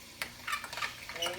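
Eggs being stirred in a pan: a few short scraping strokes of a utensil at an uneven rhythm, close and moderately quiet over a faint low sizzle.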